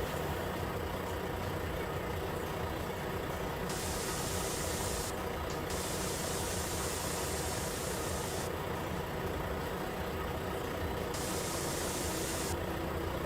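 A car engine idles steadily inside a video game, a continuous low rumble that holds even and unchanging throughout, with no talk over it.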